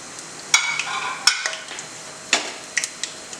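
Whole spices, cinnamon, black cardamom, fennel, black pepper, cloves and green cardamom, shallow frying in oil in a pan for a mountain-style chicken curry, with a soft steady sizzle broken by a few sharp clinks of a stirring spoon.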